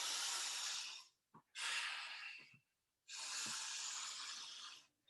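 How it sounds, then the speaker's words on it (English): Three long, hissing breaths drawn through the nose, separated by short pauses, with a faint snort between, as a person recovers after an exercise session, close and clear with no talk. "Nasal breathing as soon as you can."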